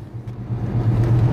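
A Rover P6 3.5 V8 car driving, a steady low engine rumble that swells slightly as it goes, close and continuous with no voices.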